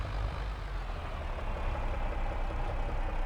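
Tractor engine in a farming game, working hard while lifting a hay bale: a steady, loud, low diesel rumble and drone that holds constant throughout, with no talk.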